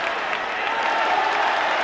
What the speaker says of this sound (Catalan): I el públic ho aplaudís, es posa en peu el trinquet